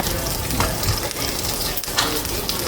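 Food sears in a hot pan with a loud, steady sizzle and crackle, plus a few faint scraping and clinking sounds from the pan, close up.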